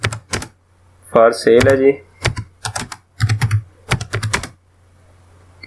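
Rapid bursts of clicking keys on a computer keyboard, typed in short clustered runs with pauses, loud and close, with someone speaking briefly in between.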